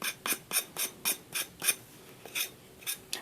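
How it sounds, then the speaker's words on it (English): Dry, rasping strokes of sanding along the edge of a decoupage ornament made from dollar-store items, about a dozen quick, evenly paced scrapes, close and fairly quiet with no talking. "it'll just ruin your image if you're trying to sand these off like this"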